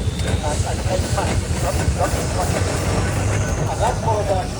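Fowler Tiger steam tractor running at a steam rally, a steady low chuffing engine rumble with hissing steam and rhythmic mechanical clatter throughout, fairly close, with people talking in the background.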